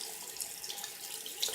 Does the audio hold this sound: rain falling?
no